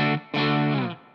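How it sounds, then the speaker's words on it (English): A single A note on the distortion channel of a Laney Lionheart L5 Studio Class A guitar amp, struck twice: a short burst, a brief gap, then a loud sustained distorted chord-like tone that slowly fades. "I'm just going to hit an A note with the distortion channel on"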